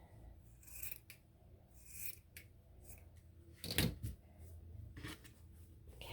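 Scissors snipping through paper for a handmade cooking journal cover, a series of close, crisp cuts with a strong louder snip near the middle and softer rasping between.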